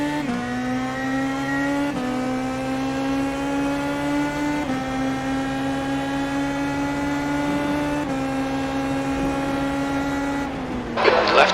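Open-wheel race cars in the IndyCar racing game IndyPro 2K roar off the line together at a season-opening start, a steady loud engine drone with clear harmonic whine that shifts pitch with each gear change, ending in a brief noisy burst.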